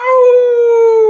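A person imitates a dog's howl with their voice: one loud, sustained tonal howl, close and clear, holding steady pitch and gently falling at the end, with no talk over it.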